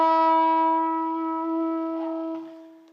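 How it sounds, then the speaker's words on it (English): A single electric guitar note bent upward from the 7th fret on the 3rd string, rising smoothly in pitch and sustaining clearly alone before fading out over about three seconds. "the bend looks like, from the 7th fret on the 3rd string, it looks like this and sounds like this"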